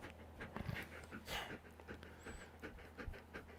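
Pet dog panting rapidly and softly whimpering close by, a steady breathy rhythm with a few faint whines, under quiet background talk.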